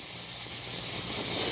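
A Shark steam mop releases a steady, close hiss of steam that swells slightly louder toward the end, with no voices over it.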